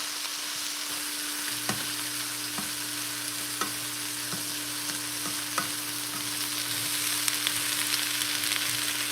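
Vegetables and tofu fry in a pan with a continuous close sizzle, steady hum beneath and several sharp clicks of stirring or utensil taps.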